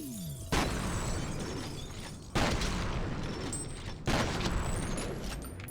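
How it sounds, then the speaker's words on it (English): Three loud, close shotgun blasts from the first-person shooter F.E.A.R. in a wastewater facility level, each a sharp boom with a long reverberant tail, spaced about two seconds apart, with no voices. "this, my friends, is why the shotgun is king on this level"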